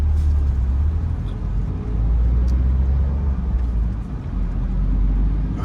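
A vehicle passes on a busy main avenue in Orlando, Florida, a steady low rumble of road traffic swelling and fading close by with no voices.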